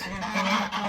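Geese on a Namibian homestead honk in a dense, overlapping chorus, loud and continuous with several birds calling at once close by.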